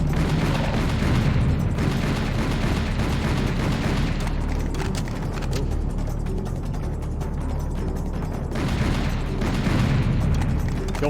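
Projectiles detonate in the video game Serious Sam HD amid dense, continuous loud game noise, with mechanical clatter and booming blasts running throughout.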